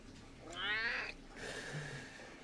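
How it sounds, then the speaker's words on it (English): A pet cat lets out a drawn-out, wavering meow up close, followed by a softer second call, both fairly quiet in an indoor room. "Oh, you're a silly cat."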